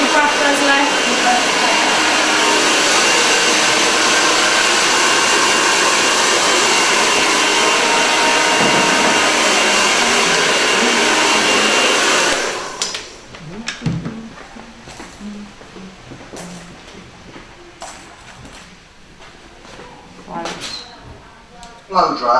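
A hair dryer roars loudly and steadily while blow drying hair in a salon, a continuous close whoosh that cuts off abruptly midway, followed by quieter clatter and handling noises.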